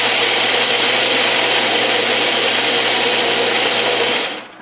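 A food processor grinds dates and nuts for a pie crust in one long held pulse, a loud steady whirring buzz close by that cuts off abruptly at the end, no talking.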